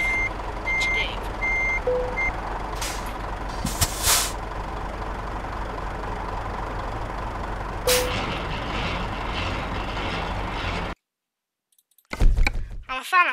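A truck reversing into a parking spot in the video game Euro Truck Simulator 2 sounds a series of short, evenly spaced reversing beeps over a steady engine drone, with sharp air-brake hisses and a brief silence before louder clatter at the end.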